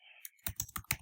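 Four or five quick keystrokes on a computer keyboard follow a short electronic tone, each a crisp close click, with no talk over them.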